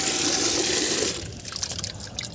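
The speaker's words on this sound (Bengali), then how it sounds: "চলো দিকে জল দিয়ে নিই গাছে একটু" Water poured onto plants on a rooftop, a loud gushing stream for about a second that then cuts off, leaving faint dribbles and quieter outdoor ambience.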